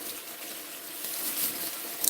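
Water from a kitchen tap runs steadily into a sink, a soft, even hiss that stays fairly quiet throughout with no voices over it.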